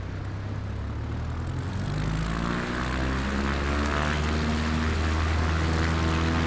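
A propeller airplane in Microsoft Flight Simulator 2024 runs its engine up for takeoff, a loud, steady droning roar with rising tones and no talking.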